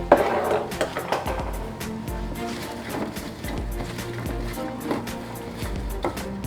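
Food pieces being tossed in a bowl or pan to coat them in a home kitchen, giving irregular clattering knocks and soft shuffles, close and moderately loud, with faint voice underneath.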